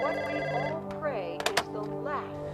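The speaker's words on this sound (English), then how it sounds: "Toby's phone rings during the chase and Kelly immediately hangs it up" A phone rings in a short burst on an office set, its electronic ring trilling under overlapping talk and a couple of quick thunks.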